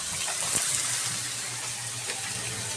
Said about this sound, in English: wash your hands first. With soap and water.